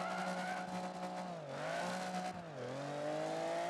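Steady racing-car engine note from Project Gotham Racing 3 on the Nurburgring, a loud sustained drone that dips briefly twice as the revs drop between gear changes, with a trace of tyre squeal and no talking.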